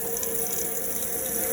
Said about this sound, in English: come to this tap and pour the water